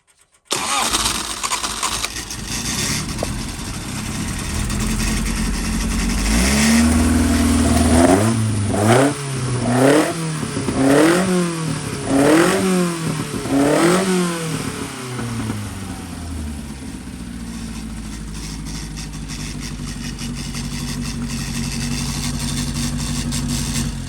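A 1040cc engine fitted with Weber DCOE carburettors cranks, fires and catches, then is blipped through a run of sharp rising and falling revs before settling into a loud, lumpy idle close by.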